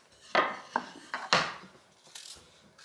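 Apple being chopped with a knife on a board for a breakfast dish, giving about five sharp, separate knife strikes in an uneven rhythm, close and fairly quiet, with a softer knock near the end.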